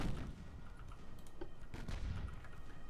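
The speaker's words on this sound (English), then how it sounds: "3-inch guns should be firing now" Three-inch naval guns fire in the naval battle game Ultimate Admiral Dreadnoughts: a few muffled, distant booms rise out of a steady rumbling background over a few seconds.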